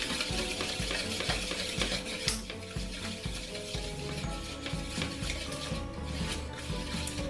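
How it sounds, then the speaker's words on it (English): A pastry blender mixes salt and flour in a bowl, making rhythmic scraping and clinking strokes against the bowl over a busy background; no one speaks. "with my pastry blender, mix together the salt and the flour."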